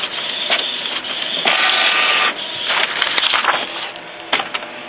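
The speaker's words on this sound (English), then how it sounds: "print out a nozzle pattern" Canon inkjet printer printing a nozzle check pattern, continuous whirring and mechanical buzzing with stop-start bursts as the print head shuttles and paper feeds, close and fairly loud.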